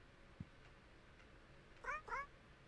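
In the video game Nightmare of Decay, a talking cat gives two quick meows close together, clear and fairly loud over a quiet, low game ambience, with a faint thump shortly before.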